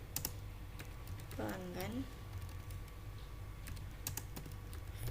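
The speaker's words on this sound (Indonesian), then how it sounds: "Kita ketik insert into" Computer keyboard keys are typed in quick irregular clicks, close and moderately quiet, while a voice speaks briefly in between over a low steady room hum.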